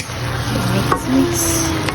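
Eggplant and carrots being stirred in a frying pan, with a steady close sizzle under scraping and stirring sounds, a sharp clack of the utensil against the pan midway.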